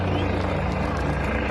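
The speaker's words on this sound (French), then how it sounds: "Ils ont même ramené un hélicoptère." A gendarmerie helicopter hovers overhead amid clashes between farmers and gendarmes, a steady loud rotor drone filling the brief moment with rough, continuous noise.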